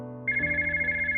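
A telephone rings in a visual novel, a steady electronic trill that starts abruptly and repeats in an even pulsing rhythm, loud and close with nothing else heard.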